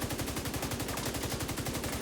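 Rapid automatic fire from the Striker weapon in The Division 2 rattles in a fast, even stream of loud shots with no pause, and no voices over it.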